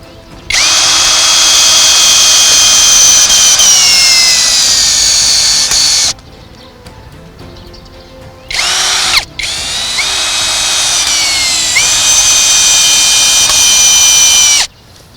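A power drill drives self-tapping screws into a block made from rice husk, its loud whine running steadily for several seconds, stopping, giving a brief burst, then running long again.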